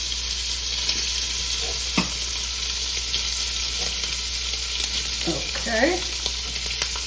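Diced ham frying in a hot pan for an omelette, a steady low sizzle and crackle with a few soft pops and stirring scrapes, a voice briefly speaking once.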